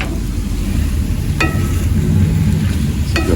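Eggs with salt fish fry on a hot stove in a continuous close sizzle, broken by two brief sharp scrapes of a utensil stirring the pan, with no voices over it.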